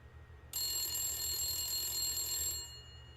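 A telephone rings in the video game Blacksad: Under the Skin, a bright, steady electronic ring that starts abruptly, holds for about two seconds, then cuts off over a low background hum.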